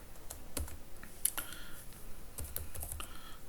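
Quiet, steady typing on a computer keyboard while writing Angular code, with irregular key clicks and small bursts close by and no talking.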